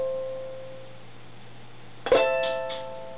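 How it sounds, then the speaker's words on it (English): A ukulele string rung as a 12th-fret harmonic: a single bright plucked tone with a ringing overtone, fairly close, fading slowly after a quiet lead-in. "After you stroked it, you lift up and you're going to get that harmonic sound"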